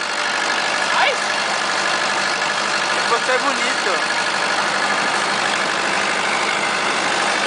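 A tractor engine idles with a steady, close, unbroken rumble, and people talk over it.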